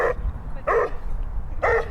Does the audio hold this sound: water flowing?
no